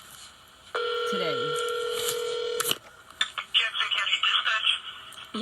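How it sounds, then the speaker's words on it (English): A phone call placed to a local sheriff's department: a steady dial or ringback tone with brief dialing beeps, then a short ring burst and clattering handset sounds as the line picks up, with a voice briefly speaking. "this is the phone call that I made to the local sheriff's department"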